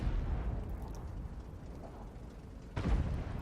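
A tank gun fires with one deep, heavy boom near the end of the clip on the snowy Himmelsdorf map, after a stretch of low engine rumble and battle noise.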